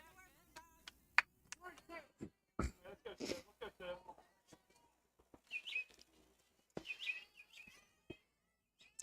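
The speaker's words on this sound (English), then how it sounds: "Birds chirping here." Birds chirp at an early morning outdoor softball game, with scattered faint tweets and calls mixed among quiet field noises, bat and ball sounds and soft distant voices.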